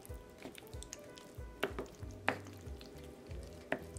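Duncan Hines apple pie filling with vanilla flavoring stirred in a bowl: soft, wet squishing and sticky smacking with a few sharper clicks of the utensil against the bowl, close and quiet, with no talking.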